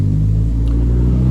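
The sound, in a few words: VW Beetle engine cranking via starter button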